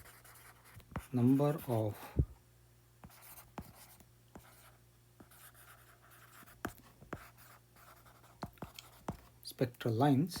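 Short scratchy writing strokes on a board or paper during a physics lesson, coming in quick bursts between stretches of close, quiet speech.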